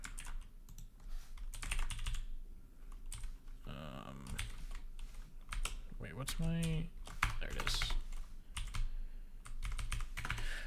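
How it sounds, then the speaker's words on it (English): Rapid clicky keystrokes on a computer keyboard while coding, used to navigate code without a mouse, arrive in irregular close bursts throughout, with someone talking briefly over the typing. "I'm trying to get more used to using the keyboard to navigate around"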